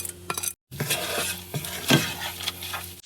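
Mixed nuts, pumpkin seeds and melon seeds roasting in a pan over low heat, a steady close rattle and sizzle with scraping stirring strokes and a brief pause, no talking.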